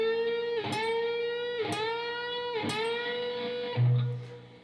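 Electric guitar bending the 14th fret of the G string a full step, four slow separate bends with rising sustained pitch, each note swelling up and ringing, followed by a short low thud at the end; close and clear, no talking.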